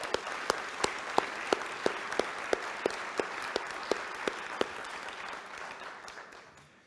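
An audience applauds to welcome new Rotary club members at a Toledo Rotary meeting, a steady wash of clapping punctuated by a few sharp louder claps, holding level before thinning out toward the end.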